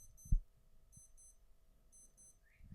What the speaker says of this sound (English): I should have known this fucking Casio watch was going to pipe up and piss me off.